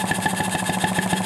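A Wm Allchin steam traction engine running stationary, a steady fast mechanical chuffing and knocking beat with metallic ringing overtones, loud and close, running alone without talk.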